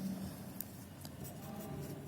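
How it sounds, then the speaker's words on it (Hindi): Writing on a board during a physics lesson on refraction, heard as soft scratchy chalk or marker strokes in short bursts, quiet and close against a faint room hum, with no talking. "सो ये चीज़ लिखते हैं"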